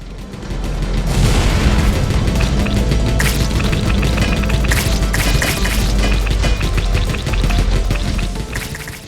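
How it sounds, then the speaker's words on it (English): Loud, dense explosive booms and crashing blasts from a rocket launch in a roguelike tower defense game, sustained throughout with bright crackling bursts over a heavy low rumble. "Launch another rocket"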